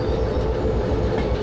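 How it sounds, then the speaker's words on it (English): A steam locomotive in Derail Valley rolls along the rails with a loud, continuous rumble and faint rhythmic wheel clatter, with no voices. "Just want to watch these points as we move our locomotive down the line"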